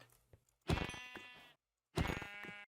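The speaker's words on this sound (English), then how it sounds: "I just realized there's some very innocent looking sheep here" Two long, wavering bleats from a sheep in Minecraft, clear and close, with a brief quiet gap between them and faint soft clicks before the first.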